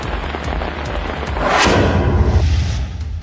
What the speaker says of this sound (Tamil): ராணிப்பேட்டை சுற்றுவட்டார பகுதிகளில் 1 மணி நேரத்திற்கும் மேலாக பெய்த மிதமான மழையால் குளிர்ச்சியான சூழல் நிலவியது